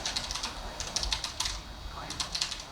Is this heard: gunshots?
no